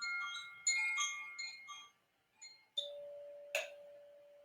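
A chime is rung during a sound bath: a run of bright, metallic ringing strikes that overlap and decay. A final struck tone holds steady and rings on alone.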